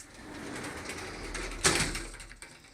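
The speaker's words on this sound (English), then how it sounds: "here's a linen closet with slidable glass doors, which are on their hinges" Sliding glass doors on a linen closet being moved along their track, a soft rolling scrape building to one sharper knock and rattle near the end, close and quiet.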